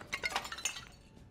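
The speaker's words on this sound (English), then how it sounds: "Smashing some pots to pick up some nice little trinkets and items." Clay pots smashing in the dark fantasy game Dark and Darker: several quick crunchy breaks with brittle shards clinking, close and fairly quiet, a little burst of cracks in the first half trailing into scattered debris.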